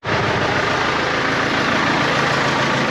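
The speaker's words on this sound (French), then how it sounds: "le nouveau tracteur qu'on a reçu cet automne" A new tractor's engine idles steadily nearby, a loud, even diesel-like rumble holding constant from start to finish with no voices.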